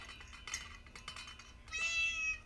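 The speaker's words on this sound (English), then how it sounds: "Please ignore my cat if you can" A pet cat in a home kitchen lets out a clear, rising meow near the end, preceded by soft kitchen clatter and small knocks; quiet overall, with the meow close and distinct.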